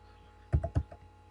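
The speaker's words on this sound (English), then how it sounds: "We're going to type in his email address of jhayes" A few quick keystrokes on a computer keyboard while typing an email address, a short cluster of clicks heard close and alone against a quiet background.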